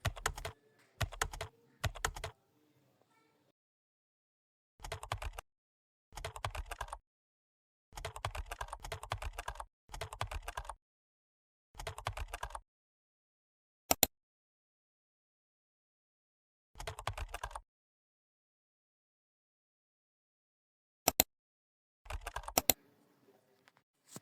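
A computer keyboard is typed on in short bursts of rapid, crisp key clicks separated by silent pauses, with a few isolated sharp single taps, close and clear with no talking.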